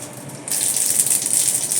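Mustard seeds dropped into hot oil in a hot kadai give a sudden bright hiss and crackle that starts abruptly and continues steadily, close and fairly loud.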